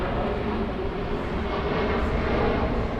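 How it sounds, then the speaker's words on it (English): A jet airliner landing at JFK airport, its engines a steady, loud broadband roar throughout, with no talk over it. "your plane landing."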